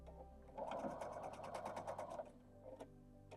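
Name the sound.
sewing machine stitching quilt scrap pieces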